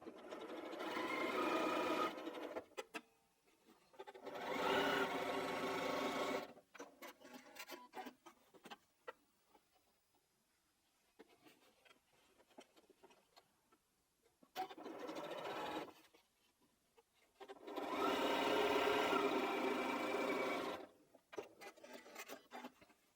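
Sewing machine stitching 1.5 by 7.5-inch quilt strips onto a block in bursts, two runs, a pause with faint handling and rustling, then two more runs, no voices.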